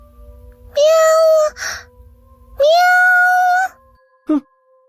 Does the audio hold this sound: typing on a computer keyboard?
no